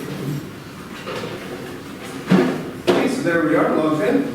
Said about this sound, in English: I'll close the door